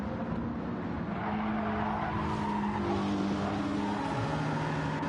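Race cars, including a Lamborghini, lapping Tsukuba Circuit in a racing video game, with a steady engine drone and tire noise throughout, sustained and fairly loud with no talk.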